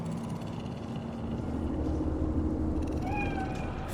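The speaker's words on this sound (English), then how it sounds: "Do you see it? The cat?" A cat in the Cyberpunk 2077 game's Night City gives a short meow near the end, heard over a steady low city ambience and hum.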